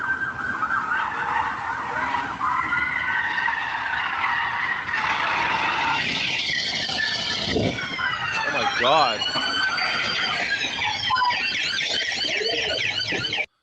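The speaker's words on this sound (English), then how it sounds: "This woman got hit by a car, still delivering." A car skids into a delivery woman: a long screech of tyres and sirens wail amid traffic, with a sharp impact midway, under excited voices and exclamations.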